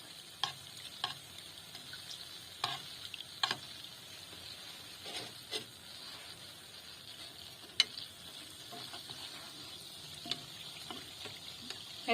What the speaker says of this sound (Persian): مرتب از روغن داغ روش باید بریزین تا یک دست داخل خمیر بپزه، خوب سرخ شه